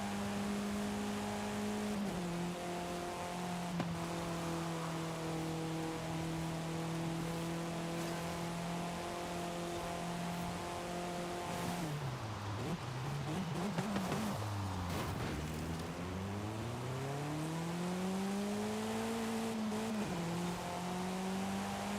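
Race cars in a Forza Horizon 5 point-to-point race, a steady droning engine hum held at a constant pitch that dips sharply, then climbs and swoops back up as the car slows and accelerates again, with no talk.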